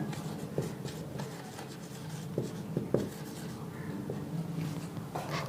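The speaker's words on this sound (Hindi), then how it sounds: "अब आगे लिखना" Steady scratching and tapping of writing on a board during a physics lesson, a continuous run of short strokes and taps at close range, with no talking over it.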